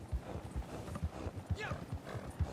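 A horse's hooves clip-clop in a steady trotting rhythm as it is ridden through snowy hills in Red Dead Online, with a brief whinny partway through and a moderately close, even cadence.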